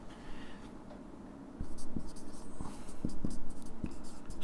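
A pen writing a line on paper, heard as a faint scratch that turns into a louder stretch of rhythmic scratchy strokes with small taps as the tip lifts and lands.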